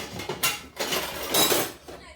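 A metal spoon clinks and scrapes against a heated pot on an open stove flame, a few close bright clatters in quick succession with short pauses between.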